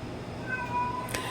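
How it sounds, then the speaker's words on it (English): A pet cat meows faintly, a couple of thin high calls over a low steady room hum, with a brief brighter burst near the end. "my cat is needing me"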